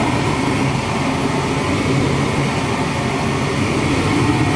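A gas furnace burner, just lit from its pilot light, runs with a steady, loud broadband roar that holds evenly throughout without breaks.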